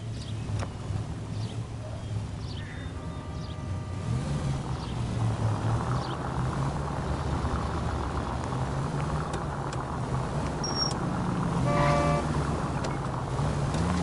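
A 1940s-era car in the L.A. Noire video game drives along with a steady engine drone and road rumble for the full stretch, while faint in-game city ambience sits beneath it.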